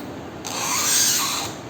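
A cutter knife is drawn along a 4 mm acrylic sheet, leaving a short, close, dry scraping scratch that swells and fades over about a second with no talk.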